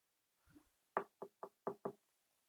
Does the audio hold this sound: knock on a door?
yes